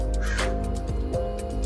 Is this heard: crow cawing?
yes